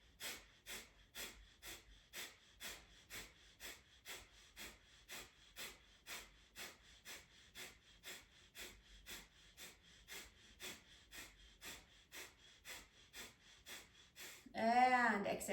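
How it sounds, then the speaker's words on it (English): Rapid fire breath during a yoga practice, about two dozen quick, even, forceful pumped breaths in a regular rhythm, followed by a brief spoken voice at the end. "One more round of fire breath."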